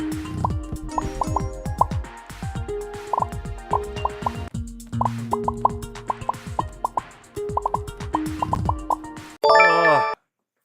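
Cartoonish toilet plops in the video game Movie Studio Tycoon, rapid bouncy tonal blips and drips in quick irregular bursts, ending with a brief bright chime.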